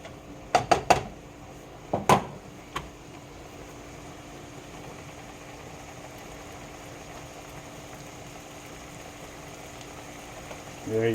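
A lasagne cooks in a pan on a stove turned up to high heat, giving a soft, steady bubbling hiss under faint talk. A few sharp clinks of cookware come near the start.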